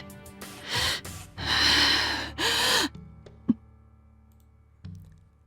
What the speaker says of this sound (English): Castor watches us while breathing heavily